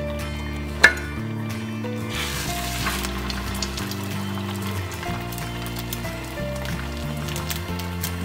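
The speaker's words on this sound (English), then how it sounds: "You heard that nice sizzle as I put that in there." Rice patties dredged in egg hit hot ghee in a pan, giving a steady soft sizzle with a brief sharp clunk near the start and light clatter later, with no voices.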